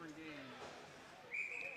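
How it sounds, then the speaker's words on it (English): Referee whistle at an ice hockey game, a single sharp, high shrill blast arriving late after a stretch of rink noise and a commentator's voice, held briefly at moderate loudness. "for our first whistle with 14:14 to go"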